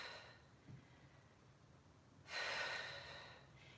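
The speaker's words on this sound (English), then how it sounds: "Notice my quality of breath." During a full-body fusion workout, heavy breathing comes as a soft intake followed by a long, forceful exhale, close and breathy with no speech.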